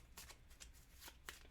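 A deck of cards for a solo zombie board game is shuffled in quick riffling bursts, several short rustling flurries close to the mic, with no talking.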